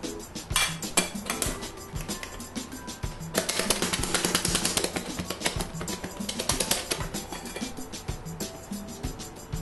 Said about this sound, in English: So some people shake it to make everything together.